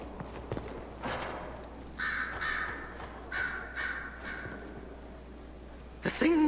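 Crows caw repeatedly in a Dragon Age: Inquisition game scene, with several harsh calls in short bursts over a quiet ambient bed and some clopping hoofbeats early on.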